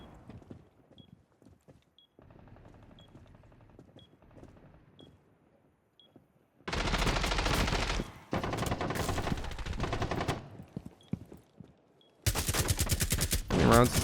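Rapid automatic gunfire bursts out in Rainbow Six Siege, loud sustained volleys of shots after a quieter stretch of faint game ambience, with a final dense burst at the end.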